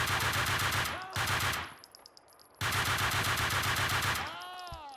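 Loud rapid automatic gunfire from Max Payne 2 comes in two long sustained bursts separated by a brief lull of scattered shots, with a ringing tail after each burst.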